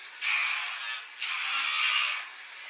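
A Lucky Tail electric nail grinder works on a resting dog's nails, giving two sustained, close buzzing whirs, each lasting about a second, with a short lull between them.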